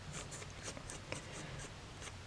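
A pencil drawing lines on paper, quiet scratchy strokes repeating in short, separate scrapes at a fairly regular pace, close and soft with no talk.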